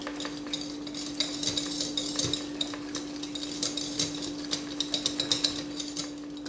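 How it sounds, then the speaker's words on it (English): Butter and locally raised honey being creamed together in a bowl, with repeated clinking, scraping strokes of a utensil against the bowl in an uneven rhythm, close and clear, over a steady background hum. "Let's just cream this all together."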